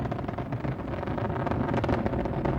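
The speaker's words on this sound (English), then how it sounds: "Engines are throttling back now, helping to ease Atlantis through the dense lower altitudes" Space Shuttle Atlantis engines throttling back during launch, a dense continuous roar with heavy low rumble and crackling buffeting, far off but loud and steady, with no voices over it.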